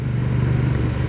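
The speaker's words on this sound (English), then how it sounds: "that engine braking is really nice" A 2025 Honda Rebel 1100 DCT motorcycle engine braking while riding at a roundabout: a steady, low engine drone with continuous rumble and wind noise, close and loud, no talk.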